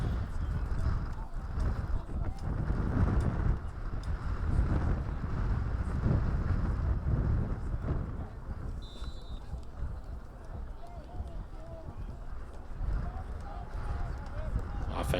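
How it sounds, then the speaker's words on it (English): Wind buffets the microphone at a Thanksgiving Day high school football game, a constant low rumbling roar that swells and eases, with faint crowd and field noise underneath. "wind continues to pick up"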